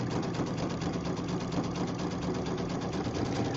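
A sewing machine runs a zigzag stitch along a quilt strip, a close, loud, steady rapid whir with an even mechanical pulse throughout.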